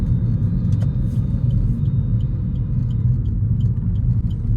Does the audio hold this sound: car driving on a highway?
yes